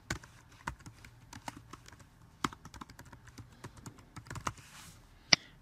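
Someone types an assignment title on a computer keyboard: a string of close, irregular key clicks with short pauses, ending in one sharper, louder keystroke.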